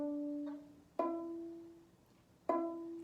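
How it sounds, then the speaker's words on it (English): A single E note plucked with the first finger on the D string of a bowed string instrument, struck three times, each a clear sustained tone with rich harmonics ringing alone and fading between plucks. "So your E is going to be the first finger on the D string."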